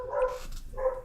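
Dogs barking, two loud close bursts about half a second apart, each a short tonal bark with a slight whine, over low background rumble.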